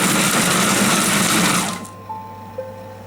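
A kitchen chopping appliance runs hard for about six seconds' worth of whirring at power level five, a loud steady buzz that winds down, followed by a couple of faint electronic beeps.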